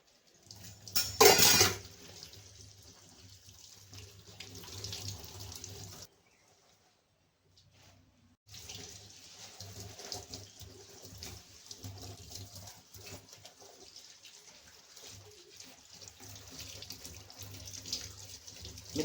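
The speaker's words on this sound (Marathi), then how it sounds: "तर पहिल्यांदा आता ह्या भाज्या घ्यावं धुवून" Wild leafy vegetables (badda, chai, kolu) are rinsed under a running tap, a steady splashing flow with a sharp louder burst early on, a brief break in the middle, then the rinsing resumes.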